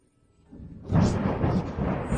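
Thunder in a storm, a deep rumble that swells up from near silence and rolls on loud and sustained, with no speech.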